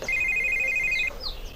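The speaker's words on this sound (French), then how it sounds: "ton téléphone sonne, tu ne décroches pas." A telephone ringtone rings with a steady run of bright repeated electronic pulses for about a second, loud and alone, then a faint chirp follows.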